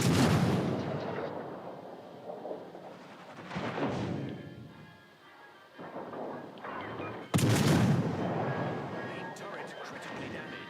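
Heavy naval guns boom from warships in a video game, several loud blasts spaced seconds apart, each rolling into a long decaying rumble, with a voice talking between shots.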